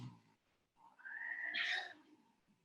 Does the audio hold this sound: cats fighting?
yes